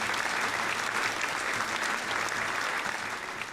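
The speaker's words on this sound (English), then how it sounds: "deserves a round of applause" A steady round of applause from a small crowd at an evening gathering, dense even clapping at moderate distance lasting a few seconds and tapering slightly at the end.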